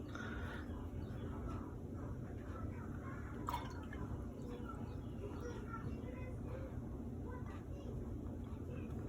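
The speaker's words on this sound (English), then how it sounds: "So I'm going to rinse my brush out." A watercolor paintbrush is rinsed in a cup of water, giving soft, faint dripping and sloshing under steady low background hum, with a small splash partway through.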